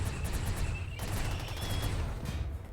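Rimworld colonists trading gunfire in a video game battle, with autocannon fire among it: a dense, continuous rattle of overlapping shots and low booms at steady moderate loudness, with no voices.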